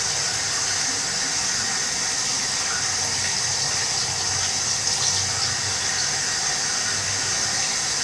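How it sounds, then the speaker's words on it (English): A dropper being rinsed under a running tap while making incense sticks, a steady close hiss of flowing water that holds evenly throughout with faint splashing and no pauses. "Rinse my dropper out."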